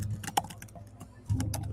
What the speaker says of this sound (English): I'm working on typing my show notes while I'm trying to multitask